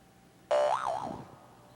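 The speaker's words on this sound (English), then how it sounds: "Play boing." A cartoon boing sound effect plays from a button on a 1987 Apple computer, one loud sudden twang that wobbles up and down in pitch and then fades away within under a second.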